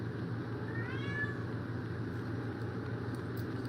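Mama Cat, a cat named Gemini, gives one faint drawn-out meow over a steady low engine-like rumble, with no talking.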